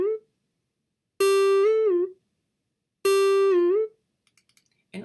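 A single synth note G, played twice as a bright, clear sustained tone with a slight bend or wobble near its end, separated by silence, followed by faint clicks.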